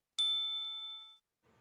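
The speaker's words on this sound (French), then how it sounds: "Quand tu entends la cloche, passe à la scène suivante" A single clear bell chime strikes once and rings out for about a second, bright and sustained with a slowly fading tone, marking the move to the next scene of a reading activity, followed by a faint murmur.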